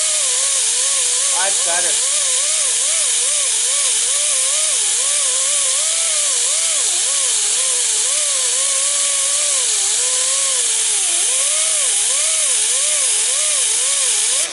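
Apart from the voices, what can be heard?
grinding disc grinding epoxy paint off a boat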